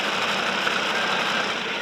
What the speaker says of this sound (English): And just his tractor is here alongside us. It's a Fortune tractor.